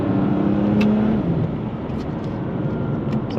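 The 410-horsepower BMW M2 Competition accelerates hard from inside the cabin, its loud engine drone rising and then dropping abruptly at a quick gearshift before building again.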